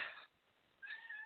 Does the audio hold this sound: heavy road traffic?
no